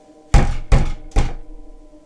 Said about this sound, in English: I rushed to my friend's apartment and banged on the door viciously.